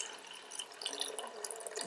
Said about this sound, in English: you just pour it through, making sure that you separate the hibiscus flower